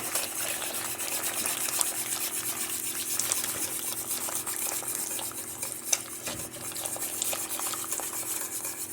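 Spoon scraping and stirring gravy mix in a pan on a stovetop, a steady close rubbing and clinking against the metal over a continuous faint sizzle, with no talking.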